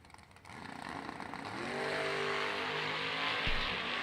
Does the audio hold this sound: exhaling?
no